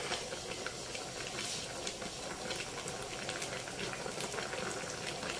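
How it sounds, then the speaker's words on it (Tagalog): A crab dish boiling in a pot, a steady bubbling and hiss of simmering liquid heard close and unbroken. "Pakukuluin lang po natin ang isang kulo"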